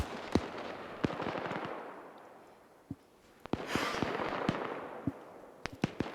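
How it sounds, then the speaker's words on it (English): An MG3 machine gun in a video game fires in short bursts of sharp cracks, with distant and nearer shots scattered among echoing rumble. "You hear them firing the MG3 in burst"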